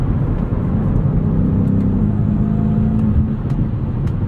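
A 2022 BMW M5 CS engine on the move: a loud, steady, low rumble and drone from inside the car, swelling slightly as it pulls, with no talking over it.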